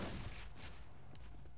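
A shotgun firing slow exploding projectiles in Borderlands 2 gives a short burst of booming blasts, loud and close, fading into a rumbling tail.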